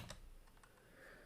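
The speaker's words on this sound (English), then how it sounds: "Then I have to type that ridiculously long file name" A computer keyboard tapped in a short run of quick, faint keystrokes while a long file name is entered, soft clicks over a quiet room hum.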